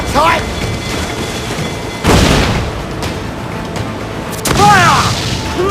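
Ship cannons fire in Assassin's Creed IV Black Flag: two heavy, close booms about two seconds apart, each followed by a rumbling tail, while crew voices shout orders throughout.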